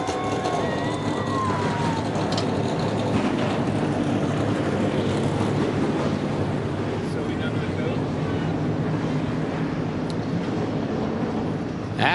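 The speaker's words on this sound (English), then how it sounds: "Drivers, start your engines!" NASCAR Xfinity Series stock car engines fire up together at Charlotte Motor Speedway, a loud, dense, continuous roar that fills the whole stretch with steady rumbling.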